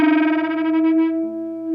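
Distorted electric guitar note bent on the B string, a sustained harmonic-rich tone that wavers as the pitch rises, then settles into a steady held note, loud and alone.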